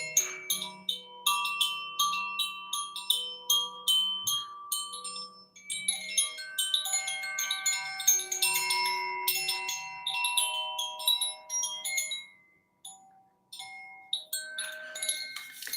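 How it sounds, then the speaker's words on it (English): A crown chakra wind chime rings with a long series of bright metallic tones, struck in quick clusters and then slower, overlapping notes that decay softly, close and alone. "I'm using, this is the crown chakra wind chime"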